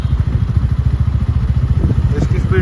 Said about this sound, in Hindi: ये बाइक अपने आप ही एक स्पीड में ना चल रही है